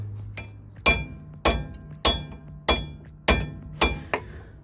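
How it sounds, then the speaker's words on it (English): A hammer strikes the back of a socket fitted on a rusted bolt on a VW T4, six sharp metallic blows in an even rhythm, each ringing briefly before the next, loud and close. "and then I smashed the back of the socket"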